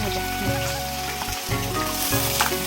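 Bitter gourd frying in a pan crackles and sizzles continuously up close, with occasional stirring clinks and a low hum beneath.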